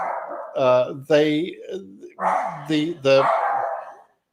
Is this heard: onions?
no